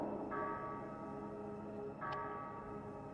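A large bell in the Crimson Desert game rings on its own, two sustained tolls about two seconds apart with long ringing overtones over a steady ambient hum, fairly faint.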